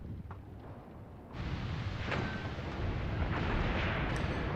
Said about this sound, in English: It looks like there's some firing going on over here as well.